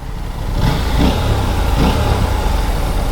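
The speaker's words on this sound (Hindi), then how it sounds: "इसके नीचे ना नट का एक आवाज़ आ रहा है, वो आप देखिए" Aprilia RS 457 motorcycle running over rough ground with a loose nut rattling underneath, a steady mid-pitched engine drone with faint metallic chatter mixed into it, loud and close, no voices.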